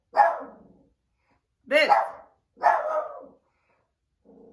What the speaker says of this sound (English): She got my poor little blind dog barking.